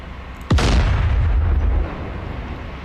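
A loud, sudden blast as a ship's gun turret is shot in the DCS World combat simulator during a NATO ship damage test, followed by a deep rumbling roar that lingers for over a second before fading.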